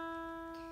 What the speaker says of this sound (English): the first string is going to be the high E string